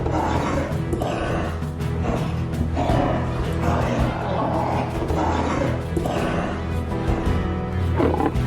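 A lion from a wild-animal documentary roars in a dense, continuous sequence of deep growling pulses, loud and close, with a few bursts rising through the clip and a narrator's voice partly mixed underneath.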